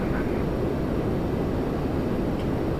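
An Embraer airliner on approach to land at Toronto Pearson, a continuous broad engine roar with a rushing hiss, loud and steady throughout.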